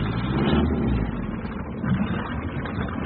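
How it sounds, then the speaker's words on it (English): An 8 horsepower engine runs in a steady, muffled drone with a slight rise and fall in tone, mid-level loudness and no voices over it. "There's 8 horsepower in this engine."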